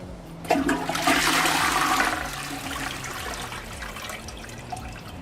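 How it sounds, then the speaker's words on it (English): A toilet flush in the Forza Horizon 6 racing game, a loud, close rush of water that peaks over the first couple of seconds and then settles into a steady trickling refill. "that flush actually sounds pretty goddamn good right about now"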